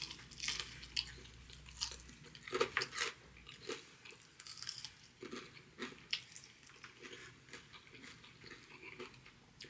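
Someone bites into a coated Wingstop chicken wing up close, producing sharp crunches followed by wet, irregular chewing that carries on quietly for several seconds.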